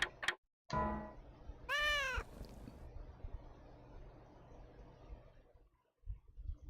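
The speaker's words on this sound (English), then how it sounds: "Oh, you've got a kitten, haven't you?" A cat in the video game Shadow of Memories meows several times, short clear calls followed by one longer rising-falling meow, close and distinct, then quiet ambient hum and a soft thud near the end.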